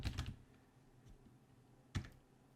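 Quiet keyboard typing on a computer, a quick burst of keystrokes, a pause, then one more sharp keypress, heard close with no voice.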